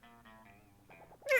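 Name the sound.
speaker's voice imitating the cat in Monster Prom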